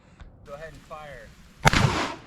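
A Mossberg 590 shotgun, cut for an RMSC optic and loaded with 1 3/4 inch shells, fires one loud, sharp blast that rings out and decays over the next half second, following a brief stretch of voice.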